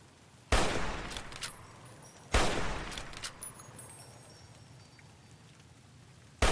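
Two loud gunshots in Fallout: New Vegas, about two seconds apart, each a sharp crack with a ringing tail, followed by quieter clatter and a third shot cut off at the end.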